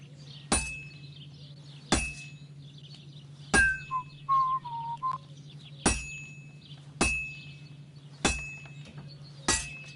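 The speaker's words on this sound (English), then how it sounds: "Now take the hammer and try hitting it a few times." In Kingdom Come Deliverance 2, a hammer strikes a sword on an anvil: seven sharp metallic clangs spaced about every one and a half seconds, each ringing briefly over a low steady hum, with a short whistling tone midway.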